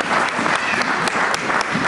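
A church congregation breaks into loud, steady applause with light cheering, a dense close clapping wash lasting the whole moment.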